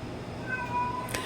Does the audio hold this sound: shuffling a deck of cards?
no